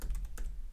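A command is typed into a Windows Command Prompt on a computer keyboard. A short run of quick, close keystroke clicks sounds over a low background hum.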